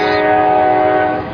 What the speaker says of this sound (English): Let's wait till that train goes by.